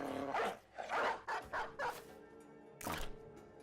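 A dog unit in the video game Battle Brothers barks in a quick burst of several gruff yaps, then a final single bark after a short pause, loud and close against a faint background.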